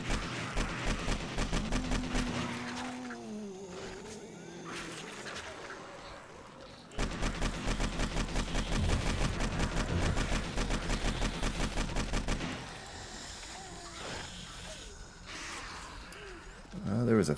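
Repeated gunfire fired down from a bunker into a zombie horde in 7 Days to Die, snowy setting; a steady stream of rapid shots runs throughout, loudest in the middle stretch, with groans and grunts mixed in.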